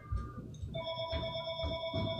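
A telephone rings with a steady electronic warble of bright overlapping tones, moderately loud and close, over low background murmur.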